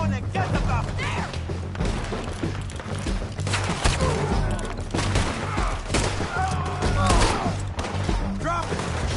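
Gunfire in a Red Dead Redemption 2 shootout, a dense run of shots and thuds stretching across the whole stretch at steady loudness, mixed under shouting voices and game music.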